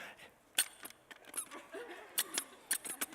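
Squeaky toy steering wheel squeezed repeatedly, giving several short, sharp squeaks in an irregular rhythm, close and fairly loud against a quiet room.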